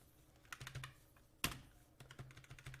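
Quiet typing on a computer keyboard while entering Python library names, irregular clusters of light key clicks with one sharper keystroke midway, close and faint with no voices.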